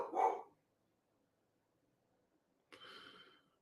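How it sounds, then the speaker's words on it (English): A dog bursts into a short loud bark near the start, then a second rougher burst of barking or yelping follows after a few seconds of near silence, both fairly close. "My dog is just going crazy right now"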